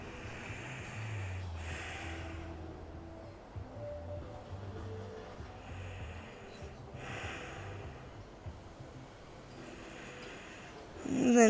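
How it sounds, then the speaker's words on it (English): Slow, steady breaths drawn in during a sunrise yoga flow, soft airy inhalations repeating at a calm pace over low background hiss, with a sharper intake at the very end. "Taking 2 breaths in."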